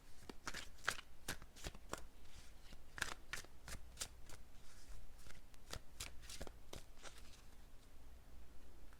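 Tarot deck being shuffled by hand, a quick series of sharp riffling card snaps in irregular bursts, close and fairly quiet with no talk.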